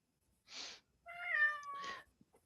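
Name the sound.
cat meowing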